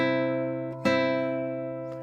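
Classical guitar strings plucked on a C note, one sustained ringing tone with a single fresh pluck near the middle, close and clear, no voices.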